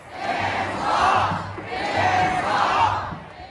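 A large crowd at a Bernie Sanders rally during a weekend of protests roars and shouts in two swelling waves, loud and massed, with no single voice standing out.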